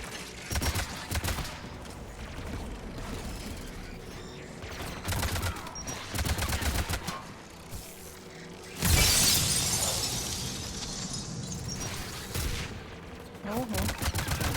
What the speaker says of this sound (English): Again, anti-aircraft guns are up ahead.